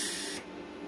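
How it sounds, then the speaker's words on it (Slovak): A VEVOR MIG/MAG welder releases a short post-flow gas hiss that is bright and airy at first, then drops abruptly to a softer, quieter hiss within about a second. "Zároveň počujete, že aj ten dofúk je zhruba do nejakej 1 sekundy"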